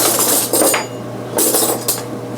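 A spoon fetched from a kitchen drawer for dipping into a skillet meatloaf and instant potato meal, with two bursts of bright metallic cutlery clinks and rattles close by, separated by a short pause.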